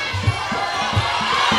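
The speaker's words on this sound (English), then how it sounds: "Got the crowd, some of the guys on their feet, getting the round of applause" A fight crowd cheering and applauding during the final seconds of a round, a dense, steady roar of voices with no clear commentary over it.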